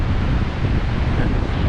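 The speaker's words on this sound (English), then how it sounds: "Probably the waves are too huge now for that" Large ocean waves on the Australian coast with strong wind: a dense, roaring wash of surf and buffeting wind noise, loud and continuous, with no voices.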